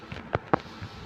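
Two sharp firecracker bursts go off a moment apart, loud and percussive against a faint background, with nobody speaking.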